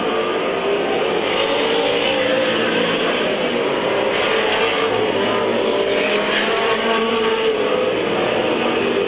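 Race cars roar continuously around the Midvale Speedway oval at a 1996 fall classic, a dense, loud and steady wash of engine noise from the field with no break throughout.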